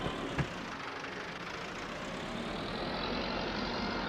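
A farm tractor's engine idles steadily in a farming simulator game, a low, even rumble that stays constant throughout with one small knock early on.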